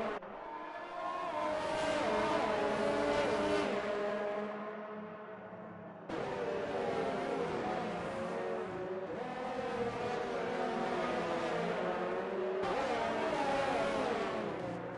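Formula 1 cars in a Monaco Grand Prix video game race, a Red Bull and an Alfa Romeo wheel to wheel, scream loudly with rising and falling engine notes, broken by abrupt cuts into new passes.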